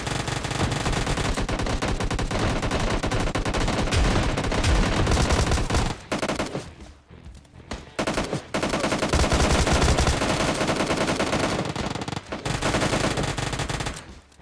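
Sustained automatic weapon fire from an Uzi mixed with shotgun blasts in a chaotic video game firefight, dense and loud almost throughout, with a brief lull in the middle before the shooting resumes.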